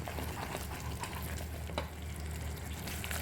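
A thick Mysore pak mixture stirred in a pan as oil is added bit by bit, a steady dense sizzle and frying hiss with soft scraping underneath, continuous and fairly loud.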